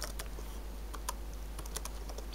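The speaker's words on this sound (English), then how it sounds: "if you'd like to turn it back on, type in power CFG" Keys clacking on a computer keyboard as a command is typed, with irregular crisp taps over a steady low hum, close and with no talking.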